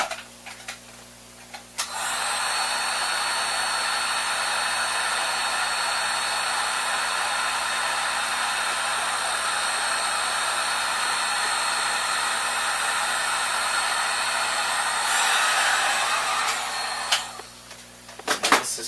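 A heat gun blows with a steady, loud, even whoosh for about thirteen seconds while shrinking heat-shrink tubing on a wire during 3D printer assembly, then switches off.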